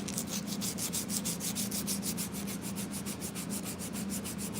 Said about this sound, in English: I just hand sand. Like I said, this is 120 grit.